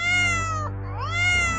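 A cat stuck up in a tree gives two loud, drawn-out meows, the second rising in pitch, over a low steady hum.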